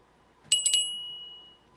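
A tarnished silver-plated hand bell with a branch-shaped handle rings with a few quick strikes, then a bright, clear metallic tone lingers and fades, close and alone against faint room noise.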